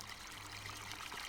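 Steady flowing water in Farming Simulator 17 on a river-basin map near a garden center, a continuous soft trickling stream with no pauses.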